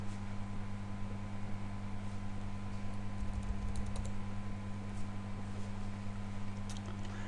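Fingers tap out a date and time on a computer keyboard, a light, quick patter of keystrokes over a loud steady electrical hum and hiss, with no talk.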